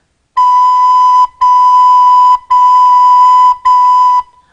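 A beginner's recorder sounds the note B four times, each a clear, loud, steady tone held about a second, separated by short breaths, with no voices.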